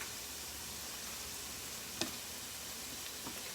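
Shrimp sautéing in a pan for fettuccine Alfredo, a steady soft sizzle running throughout, with a couple of faint clicks from a utensil against the pan.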